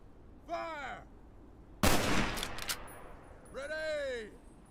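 A firing squad volley of gunshots in Fallout: New Vegas, one sharp loud burst with a brief ringing tail, between shouted commands from a voice before and after.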